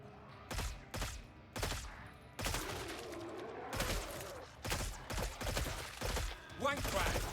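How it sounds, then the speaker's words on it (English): Gunfire in the shooter Killing Floor 3 rings out in loud, separate bursts and single shots at an uneven rhythm, with short gaps between them and some mechanical clatter in the middle. "The guns will sound different with the different attachments that you put on it, like the suppressor."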